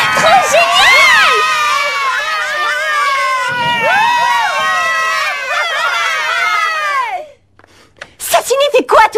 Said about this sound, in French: Cessez de hurler.